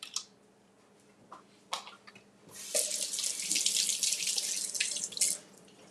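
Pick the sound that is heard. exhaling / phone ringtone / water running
water running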